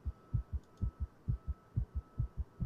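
Heartbeat in the horror video game The Letter, a steady deep thumping double pulse repeating about a dozen times, close and prominent over a low hum.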